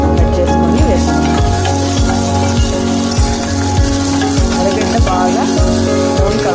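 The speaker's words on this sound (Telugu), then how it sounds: "బాగా బ్రౌన్ కలర్ వరకు వేయించుకోవాలి." Curry leaves and chopped coriander sizzle steadily in hot oil in a pan, a dense continuous crackle with a low hum and occasional clinks, close and loud with no talking.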